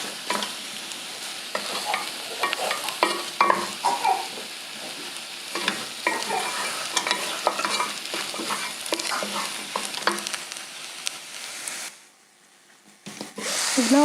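Beef sizzles in a hot pan as a spoon scrapes and stirs it in steady, irregular strokes, with the frying hiss continuous up close until a brief near-silent pause near the end before the sizzle resumes.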